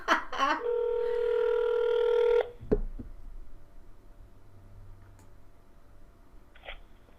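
A telephone placing a call: a short burst of touch-tone dialing, then a steady ringback tone for about two seconds that cuts off, followed by faint room noise and a brief tone near the end.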